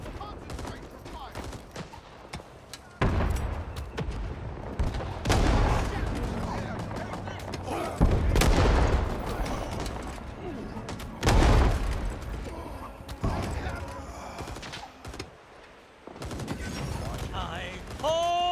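Dense gunfire in Rising Storm 2: Vietnam, with sustained volleys, rifle cracks and heavy booms layered over battle ambience, surging in loud bursts over eighteen seconds and ending in a short high whistling sweep.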